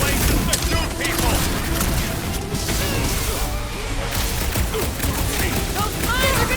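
A battle in Marvel's Guardians of the Galaxy rages with rapid, dense gunfire, crashes and whooshes layered into a loud, continuous clamour, while voices shout over the fighting.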